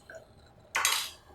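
A knife chopping fresh vegetables for Algerian couscous in a home kitchen, one quick close cut with a crisp bright crunch following a quiet lull.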